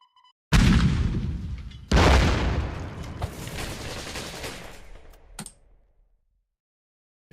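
Artillery fires in the card game Kards in two heavy booming blasts, each followed by a long rumbling decay, then a short sharp crack before the sound fades to silence; no one talks.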